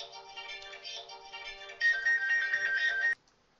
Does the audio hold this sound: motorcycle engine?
no